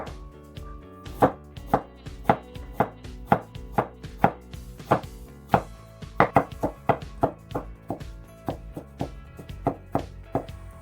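A knife chops carrots on a cutting board for kimchi, a rapid run of crisp, evenly spaced thuds, close and clear, with a few quicker double strikes partway through and no talking.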